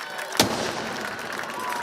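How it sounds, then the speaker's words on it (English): A single loud firework bang goes off at a night high school football game after a touchdown, a sharp crack followed by lingering crowd noise and open-air rumble. "the Tigers light the firework off, which means that they have scored a touchdown"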